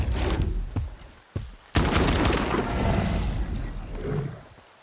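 Shotgun fire in S.T.A.L.K.E.R. 2: a few sharp, loud blasts with short gaps, one especially heavy, followed by a rumbling roar as the shots fade.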